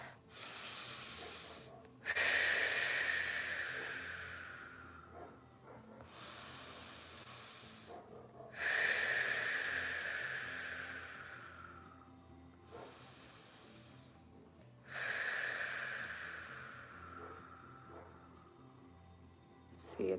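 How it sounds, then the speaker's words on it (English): Three slow, deep breaths from a close voice in a calm guided moment, each a long hissing exhale that swells and gradually fades, evenly spaced with quiet pauses between. "Take 3 deep breaths with me."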